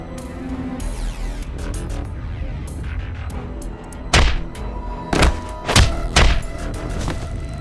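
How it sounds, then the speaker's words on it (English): Punches and kicks land in a video game cutscene from Ai The Somnium Files 2, heard as several heavy, thudding impacts in quick succession over a low rumbling backdrop, with no one speaking. "Why did you punch him out of nowhere like that?"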